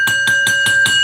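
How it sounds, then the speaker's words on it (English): A wrestling ring bell is struck rapidly about five times in an even rhythm, each clang ringing into the next, loud and close with sustained metallic tones. "Ring the bell, damn it!"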